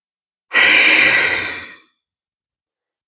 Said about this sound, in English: Taking a breath here.